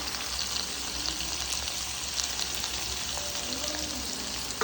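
Onions frying in hot oil for egg bhurji give a steady, dense crackling sizzle that hisses evenly and close throughout, without any talking.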